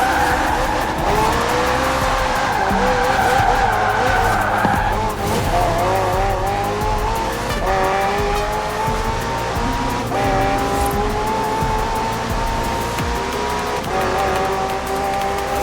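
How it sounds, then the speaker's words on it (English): McLaren hybrid twin-turbo V8 race car in Forza Horizon 4, engine loud and close, revving up and down through gear changes with repeated tire squeals and skidding throughout. "The car's blistering performance is delivered by a twin-turbo V8, supplemented by a McLaren ECU electric motor and instant power assist system."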